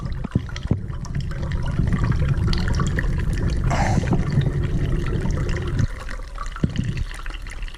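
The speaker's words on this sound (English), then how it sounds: "Now it is leaking somewhat fast" Liquid leaking steadily into a receptacle, a continuous watery trickle and splash that runs for several seconds, then stops, with a few brief drips afterward.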